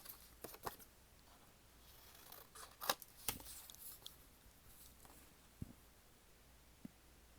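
Scissors cut through paper while a December journal is being set up, giving a few quiet, sharp snips and rustles spaced irregularly against a faint background.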